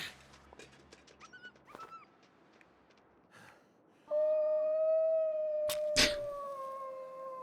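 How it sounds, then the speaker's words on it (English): A wolf in the survival video game The Long Dark howls, first with scattered short yips and whines, then one long, loud, sustained tonal howl that holds steady for several seconds, with a sharp thud midway. "it's like running away and then it just goes straight into a howl"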